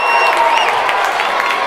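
Basketball crowd at a Summertown game, with a dense wall of loud, steady crowd noise and mixed shouts reacting to an offensive foul call.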